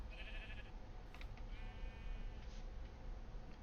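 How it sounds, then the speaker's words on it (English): Sheep in a blocky sandbox video game give two clear bleats, the first short and wavering, the second longer and drawn out, over a steady low hum of background noise. "Oh, we do have sheep."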